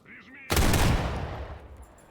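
A single loud, close shot from a Desert Eagle .357 Magnum pistol in the shooter game Mercenary of the Zone bursts out of near silence and rings off into a decaying tail, with a faint voice beforehand.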